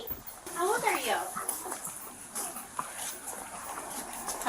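A puppy whimpers and whines in high, wavering cries near the start, while people talk over it in the background.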